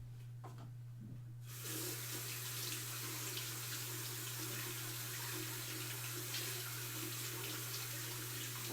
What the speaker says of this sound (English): I'm gonna wash my fingers if you give me a second